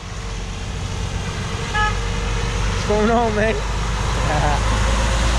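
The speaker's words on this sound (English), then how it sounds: "that's my boy just drove by in the truck" A truck passing outdoors gives two short horn toots over steady engine and road rumble, the second honk slightly longer, while a man greets someone nearby.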